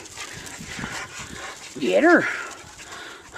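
A dog gives a brief, high, wavering whimper amid soft panting. A person's voice urges nearby, partly overlapping it.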